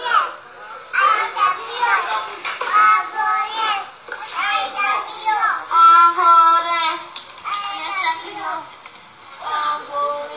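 Small children in jerseys sing together in high voices, several young voices in repeated melodic phrases with short pauses between lines, close and clear.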